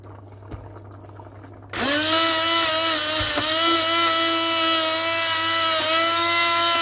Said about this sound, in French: Après on va prendre le pied mixeur.